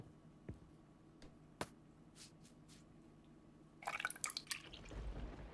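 Water drips and splashes at a kitchen sink while dishes are washed, scattered faint drops and taps giving way to a brief burst of running, splashing water near the end, with no talk.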